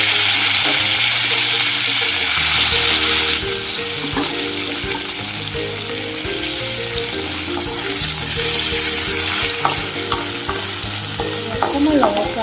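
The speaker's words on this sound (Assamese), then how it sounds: "অকণমান ৰঙচুৱা হোৱালৈকে আমি ফ্ৰাই কৰি ল'ম।" Paneer fries in hot, smoking oil with a loud, steady sizzle and crackle, while a utensil stirs and scrapes the pan throughout; no talk is heard.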